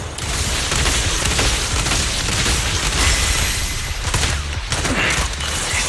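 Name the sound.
gunfire from the video game Zenless Zone Zero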